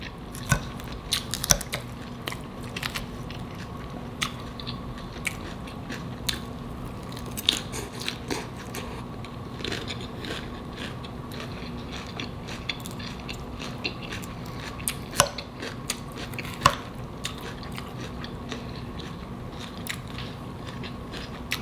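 Close-up eating of Publix hot honey chicken salad: soft wet chewing with scattered sharp crunchy bites and clicks over a faint steady hum, going on for about twenty seconds without talk.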